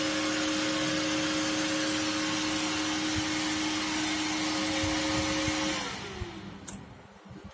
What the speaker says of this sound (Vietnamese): Quạt chạy ngay